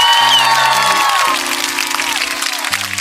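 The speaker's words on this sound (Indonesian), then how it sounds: "Oke, kasih tepuk tangan untuk yang menang ya." Crowd applause and cheering sound for the winners in the Sakura School Simulator game, a steady wash of clapping with low synthetic background tones underneath.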